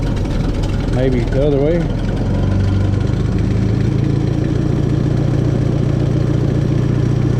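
An International 300 tractor engine idles loudly and close by, a steady low chugging rumble while its choke is adjusted, with someone talking over it early on.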